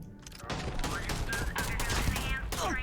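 Rapid bursts of EM weapon fire in the Starfield video game, a dense crackling volley sustained for about three seconds with a voice speaking underneath.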